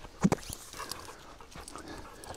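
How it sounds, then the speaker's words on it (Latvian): A dog pants and lets out a couple of short, close whimpering breaths near the start, then fainter breathing against quiet outdoor background. "Ļoti paklausīgs suns, kamēr neieraudz citas viņš."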